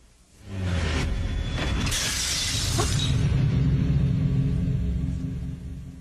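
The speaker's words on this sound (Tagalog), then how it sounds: "Nabasag yung vase." A vase breaks in a single loud, close crash of shattering glass-like pieces, followed by a heavy rumbling wash of sound that lasts several seconds before fading, with no talking.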